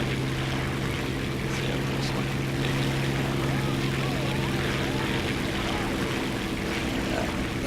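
A World War II biplane, an Italian Fiat CR.42 or a bomber, drones steadily overhead in War Thunder, a constant low engine hum with propeller buzz holding even throughout, a voice talking over it.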